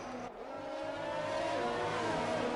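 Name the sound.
racing cars on track in an F1 racing video game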